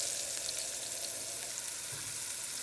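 A steak sears in hot olive oil in a pan, a steady, dense sizzle and crackle at moderate level that holds unbroken throughout with no voices.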